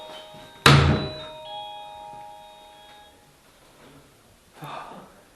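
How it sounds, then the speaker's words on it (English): An old door at the historic Toodyay jail swings open, starting with a sharp loud clunk of the latch followed by a faint creaking drift and a softer knock a few seconds later, with no talking. "As I open this door."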